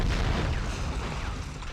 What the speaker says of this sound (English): I gotta kill that guy with a grenade launcher.